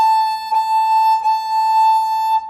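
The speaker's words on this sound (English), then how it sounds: "Want it all the way up there on that third finger tape. That's the A. Sounds like this." A violin sounds a single sustained A on the E string, stopped with the third finger, as a clear, steady bowed tone with soft bow-change bumps, close and alone.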